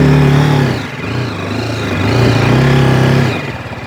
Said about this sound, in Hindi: अभी मैं बाइक को चढ़ाऊँगा ना, अब बाइक चढ़ जाएगी।